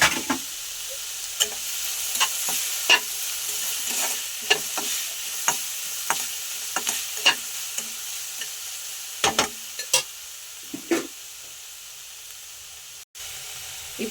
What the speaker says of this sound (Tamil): வெங்காயம் ரொம்ப வதங்க தேவையில்லை, சும்மா லைட்டாக வதக்குனா போதும்.